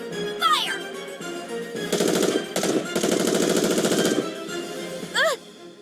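Rapid automatic gunfire from the mobile shooter game Goddess of Victory: NIKKE comes in loud sustained bursts, framed by short synthetic chirps and whooshes before and after.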